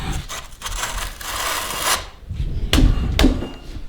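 A downhill bicycle's seat post slides down through the frame clamp with rough scraping and rubbing bursts, then two sharp knocking thuds near the end, close and fairly loud.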